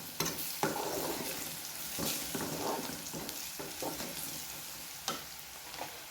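Garlic, cumin and fenugreek powder stirred in a frying pan: a steady, close sizzle runs throughout, broken by repeated scraping strokes of the spoon.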